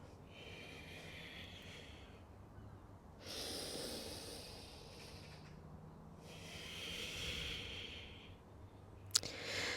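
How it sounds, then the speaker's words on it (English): Slow yoga breathing during a beginner core session, with three long, airy breaths alternating in a steady rhythm, each rising and falling over a few seconds. The breaths sound close and soft, and a brief click comes near the end. "Exhale. Inhale. Exhale. Going with your own breath."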